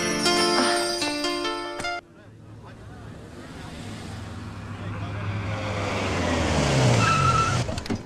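A car pulls away with tires skidding, the engine revving up as the screech swells, preceded by a few seconds of music that cuts off abruptly.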